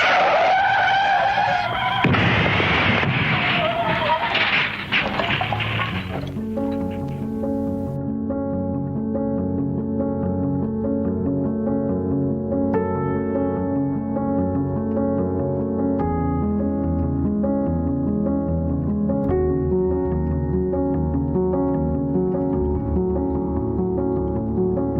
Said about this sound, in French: La voiture braque et se retrouve dans le fossé.